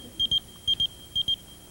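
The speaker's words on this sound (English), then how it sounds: "There's your phone." Three paired electronic beeps from a phone, each pair a quick double tone, repeating at even intervals against a quiet indoor background with no talk.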